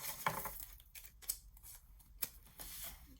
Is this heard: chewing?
no